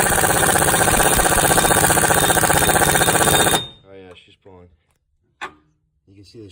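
Dense, loud mechanical grinding and rattling from an OTC hub grappler cranked to draw the rear hub out of a Subaru STI, steady for about three and a half seconds before stopping, followed by brief talk and a single clank.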